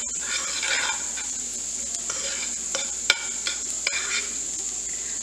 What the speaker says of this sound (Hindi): हल्का सा हम इसमें बटर के अंदर गार्लिक को जो है रोस्ट करेंगे